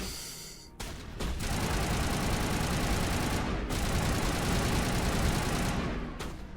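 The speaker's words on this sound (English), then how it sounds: "Look at Tally go with that shotgun" Sustained burst of gunfire and combat noise from the Mass Effect video game, loud and dense with a few brief breaks, including shotgun blasts from a squadmate during an Insanity-difficulty fight.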